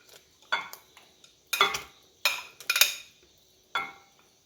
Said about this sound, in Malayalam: ഇനി ഇതിലേക്ക് മീൻ കഷ്ണങ്ങൾ ഇട്ട് കൊടുക്കാവേ